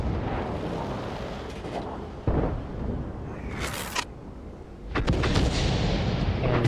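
Deep booming tank cannon blasts in World of Tanks, one heavy roar followed by a sharp report and a second rumbling shot, over a dense low engine drone.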